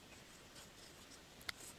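Faint pen-on-paper scratching during a class 10 math lesson, soft continuous strokes with one sharp tap near the end, quiet and close.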